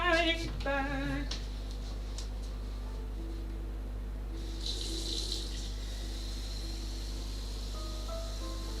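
Water running from an indoor tap, a brief, faint hiss rising midway over a steady low hum, after a few short tonal sounds at the start.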